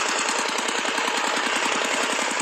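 The motor of a homemade sawmill runs loud and close in a fast, steady, lumpy chugging beat, like a rough engine idling, with no one speaking.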